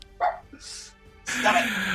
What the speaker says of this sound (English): I want to hear from you, not your dog.